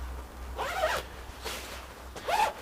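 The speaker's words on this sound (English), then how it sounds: "a zip like this to go up for extra ventilation" A two-way zip on a mountaineering jacket is drawn three times, each a short close rasping pull with brief quiet gaps between.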